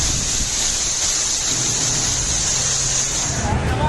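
Heavy rain pouring over the flooded Dadar area of Mumbai, a steady, loud hiss of falling water that continues unbroken throughout.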